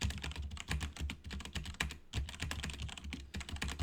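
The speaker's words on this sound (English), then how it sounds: "I'm just mashing on the keys here." Fast, dense clatter of random keys being mashed on a computer keyboard, continuous irregular tapping with a brief pause midway, close and fairly loud.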